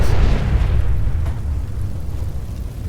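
A Fat Man mini-nuke detonating in Fallout 4: a huge, loud explosion with a deep rumbling roar that fades slowly over a few seconds.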